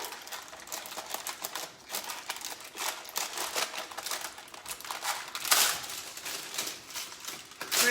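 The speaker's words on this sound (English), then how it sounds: "We're gonna cut off the excess." Excess material trimmed away while a gluten-free, sugar-free keto cheesecake is being made: quick, close, crisp snipping and crinkling in irregular bursts, with no talk.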